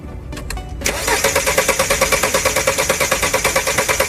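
Car engine cranking and failing to catch after refuelling with poor-quality petrol, a fast even starter rhythm of repeated pulses running steadily for several seconds at close range, following a brief quiet rustle.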